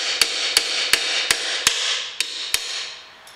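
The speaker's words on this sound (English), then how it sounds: "maybe a couple of taps of hammers" A hammer gives seven sharp metallic taps at a steady, slightly uneven pace to a brake caliper clip on a Suzuki Grand Vitara front brake. The taps are close and clear over a quiet background, with no talking.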